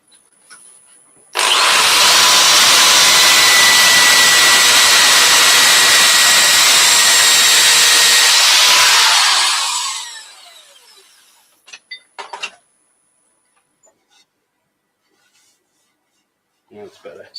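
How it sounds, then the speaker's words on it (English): Sandpaper rubbing against a spinning turned wooden piece on a lathe, a loud steady broadband hiss lasting about eight seconds before trailing off, followed by a few quiet knocks and handling sounds. "Just another quick sand."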